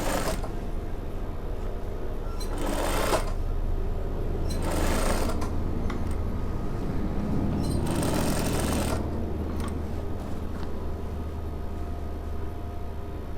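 Sewing machine stitching fabric quickly while making a mermaid-style skirt, a continuous close, fast motor whir and needle rattle running throughout, with short bursts of brighter rushing noise.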